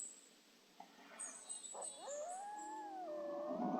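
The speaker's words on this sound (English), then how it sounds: "I hear those wolves calling again." Wolves howl in a bow-hunting video game, several rising and wavering calls overlapping with yips and whimpers, faint and distant over near silence with no talking.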